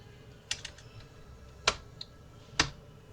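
Three or four sharp, isolated keystrokes on a computer keyboard, spaced irregularly with quiet gaps between them, close and clear against faint room hiss.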